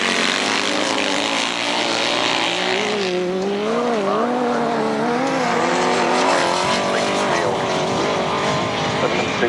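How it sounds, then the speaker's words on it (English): Several grasstrack racing sidecar engines roar loudly and continuously at a 1991 meeting, their pitches rising and falling together as machines accelerate and pass close by. "Superb sidecar engine here this afternoon"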